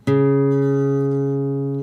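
One guitar string, tuned down a half step to D flat, sounds a single clean plucked note that rings steadily for almost two seconds before stopping.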